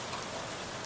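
Steady, soft rain falls on a mild day, a dense even patter of drops on surfaces with no voices, continuous and fairly faint throughout.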